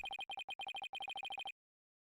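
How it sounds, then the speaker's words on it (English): Cell phone ringtone from the Ace Attorney video game: a rapid electronic trill in short repeated bursts of beeps, about fifteen pulses in quick rhythm, then silence. "Cell phone."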